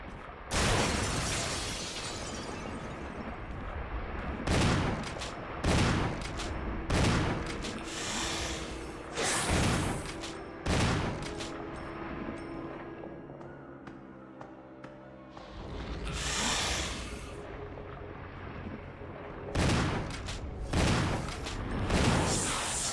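Gunshots ring out in Resident Evil, some of them from a shotgun, in a long series of loud, sharp blasts with irregular gaps and echoing tails over a steady game background.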